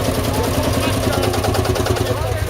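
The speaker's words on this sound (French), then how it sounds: "Et surtout ne casse pas mon tracteur." A tractor engine runs steadily at a ploughing contest, a low, even rumble with a fast chugging pulse throughout, close by, while a person talks over it in French.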